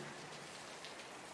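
Soft, steady rain patters faintly and evenly, a gentle wash of drops with no other sounds.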